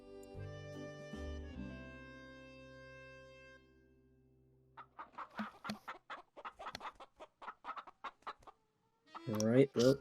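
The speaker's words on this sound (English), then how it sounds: "I don't think I have a chicken sound effect." A chicken sound effect in a tabletop game session: a sustained rooster crow at dawn, followed by a string of close, rhythmic hen clucks and a final burst of squawking.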